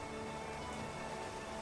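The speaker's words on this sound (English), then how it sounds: "Having what could only be called a lovely spring shower at the moment, which is just torrential rain" Torrential spring rain in the video game Clanfolk, a steady, dense wash of falling rain with no gaps, heard alone and fairly close.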